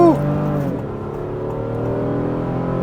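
A 2025 Honda Pilot Black Edition V6 SUV pulls hard under acceleration, heard from inside the cabin as a steady, loud engine drone with rising tones that level off after the first moments.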